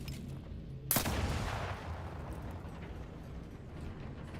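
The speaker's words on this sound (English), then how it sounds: "let's just use my kinetic biomass pistol" A kinetic biomass pistol in The Outer Worlds 2 fires a single sharp, loud shot that rings out and trails off into a lingering rumble.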